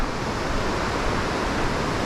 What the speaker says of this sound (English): This really is a pretty river